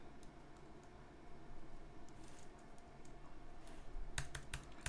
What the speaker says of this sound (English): I can type Nmap, right?